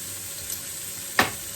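Garlic and ginger fry in a pan with a soft, continuous sizzle, close by, broken by a sharp stir or clatter near the end.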